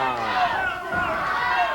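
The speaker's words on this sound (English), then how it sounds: "The crowd is chanting, "Go, Doug, go."" A wrestling arena crowd chants in unison during a heavyweight title bout, a loud, steady roar of massed voices filling the space.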